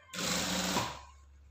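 A sewing machine topstitches the inner side of a shirt's front placket on a mandarin-collar shirt, running as one steady loud burst of rapid stitching for just under a second before winding down.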